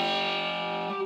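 A three-string cigar box guitar sounds a sustained, buzzing F note played through distortion, bright and harmonically rich, ringing steadily for about a second with no voice over it.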